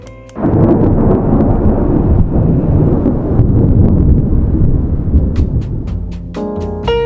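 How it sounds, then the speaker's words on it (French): A thunderstorm rumbles loud and close, a long rolling peal of thunder swelling in and sustaining for several seconds over steady rain noise before easing slightly. "Surtout quand il y a des orages comme ça."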